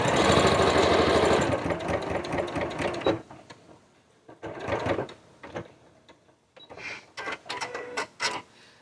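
Sewing machine stitching a seam, a loud continuous mechanical whir for about three seconds, then shorter intermittent bursts of running separated by quiet pauses.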